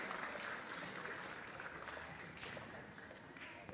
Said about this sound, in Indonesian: mari kita berikan aplaus yang meriah agar kita lebih bersemangat pada kesempatan hari ini